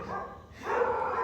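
Dogs barking at home, heard as a short, muffled burst of barking at low volume in the background.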